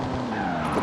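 Ford Focus RS RX Hooligan Gymkhana 10 rally car in Forza Horizon 5, a 2-litre turbocharged all-wheel-drive machine, drifting with a steady engine drone and tire scrub, close and continuous for under a second.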